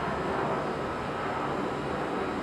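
An airplane passing low overhead near an airport, a loud, continuous broadband roar that fills the whole moment without letting up.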